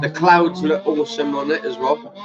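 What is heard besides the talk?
No everyday noise stands out behind the speech.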